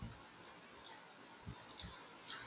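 Computer mouse clicks while working in an Excel pivot table, a series of sharp, quiet, isolated clicks spaced irregularly, a couple in quick succession, heard alone with no talking.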